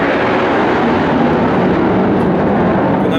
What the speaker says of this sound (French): On est un petit peu gêné par les avions